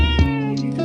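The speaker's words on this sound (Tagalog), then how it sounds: "Andito yung pusa." A house cat lets out a single clear, close meow with a bright harmonic tone, lasting just under a second and heard alone.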